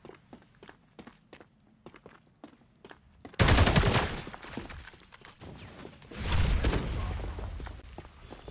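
Hip-fire gunshots ring out in the video game FragPunk during a competitive match. Quiet rhythmic footsteps lead into a loud burst of rapid fire, then a second heavy burst after a short lull.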